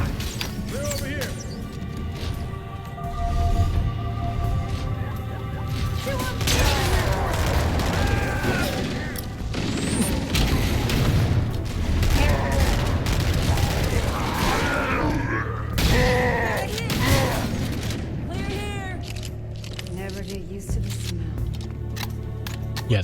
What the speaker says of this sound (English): the shotgun's actually very nice in this game